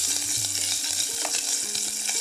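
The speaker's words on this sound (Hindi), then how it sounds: "तो मैं सिर्फ 1 चम्मच अभी इस पे कटी हुई मिर्ची डालूंगी और आप इसे थोड़ा ब्राउन होने दीजिए" Chopped chili, cumin and ginger fry in a pan, giving a steady close sizzle with light stirring scrapes, and no one speaks.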